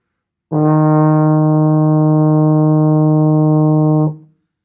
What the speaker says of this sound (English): That E flat sounds like this.